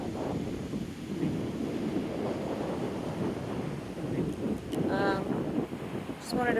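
Steady wind roars over rolling ocean surf at Myrtle Beach, South Carolina, a dense continuous wash close to the microphone with brief faint whistling tones near the end.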